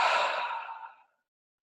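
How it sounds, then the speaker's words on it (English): A single deep, breathy exhale taken slowly during a guided meditation breathing exercise, loud at first and fading away to silence after about a second, with no talking over it. "And exhale, emptying completely."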